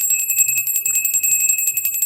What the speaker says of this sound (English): Let's ring that bell.